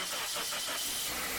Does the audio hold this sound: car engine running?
yes